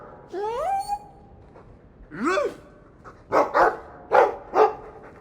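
A dog in the video game Dragon Age 2 gives a few short bark-like calls. The calls are followed by several rhythmic, mid-loud bursts, with no clear talk over them.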